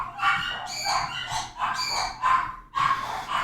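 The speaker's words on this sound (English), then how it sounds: "Oh man, those dogs, they really want it. They really want to yap." Several small dogs yap in rapid, repeated bursts close by, the sharp high barks overlapping in an insistent, uneven rhythm with brief pauses between volleys.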